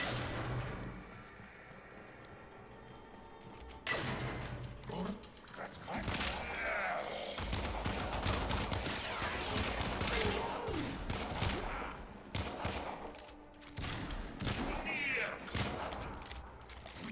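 Rapid bursts of gunfire from the sci-fi shooter game Warframe, dense and loud, with sustained automatic fire and sharp repeated shots layered under someone talking throughout.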